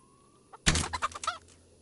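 A single chicken in the medieval video game Kingdom Come: Deliverance lets out a short burst of rapid clucks, loud and close against near silence.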